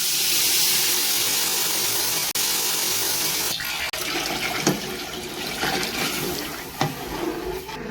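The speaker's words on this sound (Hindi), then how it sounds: "फिर आप देख सकते हैं पानी इसमें मैंने शामिल कर दिया।" Water pours steadily into semolina for sweet halwa, a loud continuous rushing splash that gives way to a few sharper knocks and sloshes as the pot is handled.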